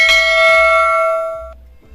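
A bright notification bell chimes once, a ringing metallic tone with several sustained harmonics that fades over about a second and a half before cutting off into near silence.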